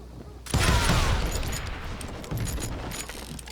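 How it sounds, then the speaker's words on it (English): Gunfire in the street in Call of Juarez: Gunslinger, a sudden loud crackling volley of many overlapping shots that keeps rumbling and crackling steadily to the end. "They're shooting in the street."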